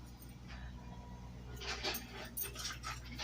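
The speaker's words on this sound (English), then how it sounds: "Rags the rescued dog is safe and secure in her kennel while all the work is going on." A rescued female dog whimpers from her kennel amid outdoor sewer line work, a few soft whines and yips over a steady low hum of machinery.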